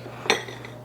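A single sharp clink as a ceramic or glass baking dish for stuffed peppers is set down on a kitchen counter, close and brief against a quiet background.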